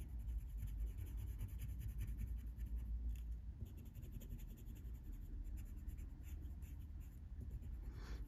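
A coloured pencil scratches steadily across paper under hard pressure, with dense, continuous close-up strokes over several seconds while the drawing tool grinds into the surface; no one speaks.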